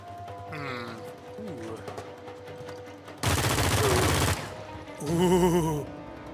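A burst of rapid video-game gunfire roars for about a second, loud and continuous, between stretches of quieter game sound, with a voice exclaiming nearby.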